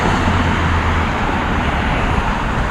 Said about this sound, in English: Another garbage truck.